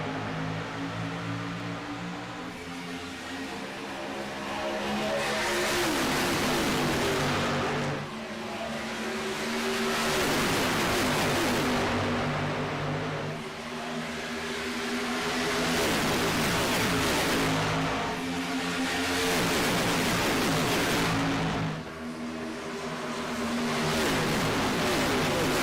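Race cars in the iRacing game at Chicagoland Speedway roar off at the green flag, engines rising and falling in long sweeping waves of acceleration as the field passes, loud and sustained with no voices.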